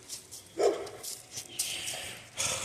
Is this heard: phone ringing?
no